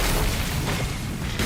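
A heavy booming explosion in the video game Hundred Line: Last Defense Academy fills the moment with a dense, loud, rumbling roar that holds steady throughout.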